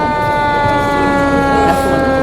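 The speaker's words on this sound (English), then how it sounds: "This is a 133-foot ladder truck with Santa on top." A 133-foot ladder fire truck sounds its siren during a Christmas parade, a loud continuous wail with layered tones and rumbling engine noise underneath.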